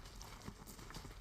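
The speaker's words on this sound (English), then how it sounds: "the horse to your left is too much in your ear" Horse hooves clip-clop in a TaleSpire tabletop game scene, a soft steady series of thuds buried in a dense, even wash of ambient game noise.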